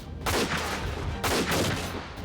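Shotgun fire booms in the Front Mission 4 tactics game, two loud heavy blasts about a second apart, each with a broad crackling tail.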